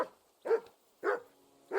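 Mutt, Henry's dog, barks at a small camp in the video game Kingdom Come: Deliverance 2, giving four short, sharp barks in a steady rhythm with brief silences between them.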